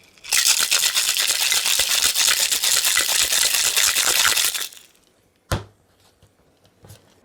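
A cocktail shaker packed with ice is shaken hard for a Christmas drink, a loud continuous clattering rattle lasting about four seconds before it stops, followed by a single sharp knock and a softer tap.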